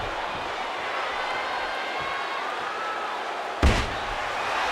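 A single heavy wrestling elbow strike lands with a sharp, loud slam over steady arena crowd noise at a wrestling event.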